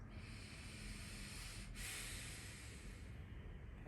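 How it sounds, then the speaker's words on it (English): Slow, deep breathing during a seated yoga session, a steady airy hiss of inhales and exhales that runs close and continuous throughout, with a brief pause near the middle. "Let's take 3 breaths."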